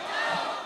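Large crowd at an Islamic religious gathering roars a short, loud unified shout of takbir in answer to a preacher, a dense burst of many voices.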